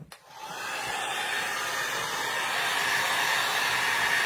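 A hair dryer switches on with a click and blows a steady, loud whooshing drone over decoupage paper, holding constant close to the listener.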